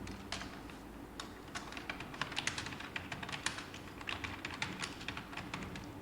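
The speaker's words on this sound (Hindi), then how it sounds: "तो इसे समझने के लिए हम यहाँ पास कुछ लिख लेते हैं।" Typing on a computer keyboard in MS Word, a quiet run of quick, uneven key clicks with short bursts and pauses, close but soft, with no voices.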